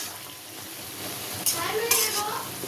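Dried fish (shutki) curry cooking in a pan in a home kitchen: a steady close sizzle and bubbling with a few sharp utensil clinks and scrapes.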